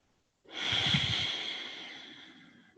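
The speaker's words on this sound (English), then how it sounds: "Last breath here." One long, deep breath drawn in a trauma-sensitive yoga practice, a single close airy inhale with a slight nasal rasp that fades out slowly, heard alone.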